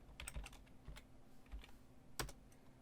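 Keys click on a computer keyboard in quick, uneven bursts, soft and close, with short pauses between clusters of keystrokes and no one speaking.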